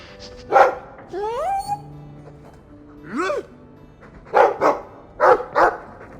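A dog in the video game Dragon Age 2 gives several sharp barks and a couple of rising whines, spaced out in bursts with quiet gaps between.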